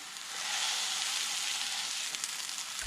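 Jimmy Dean hot sausage sizzling and frying in a pan, a steady bright crackle that holds close and loud throughout with no voices.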